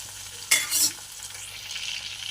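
Tomatoes and onions frying in a pan for village-style gongura pachadi are stirred, giving two sharp scraping swishes over a soft, steady sizzle that continues afterward.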